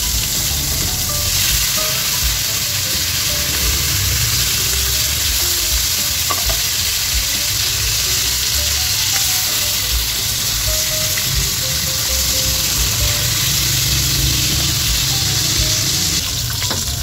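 Fish frying in a pan of hot oil, a loud steady sizzle and crackle that runs unbroken for the whole stretch, with faint stirring and no voices.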